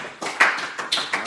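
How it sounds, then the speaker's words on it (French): A church congregation claps in short, uneven bursts, several loud hand claps spaced over a second or so, close and dry with no talking. "Voilà, nous acclamons."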